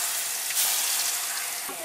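Chicken pakoda frying in hot oil at a roadside food stall, a loud continuous crackling sizzle filling the whole moment, close and steady.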